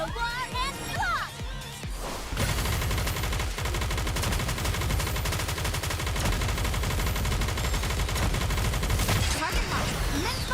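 Heavy gunfire and bombardment in the video game Goddess of Victory: Nikke. A brief quieter opening gives way to a loud, sustained stream of rapid shots and blasts, with voices and game sounds mixed in over it.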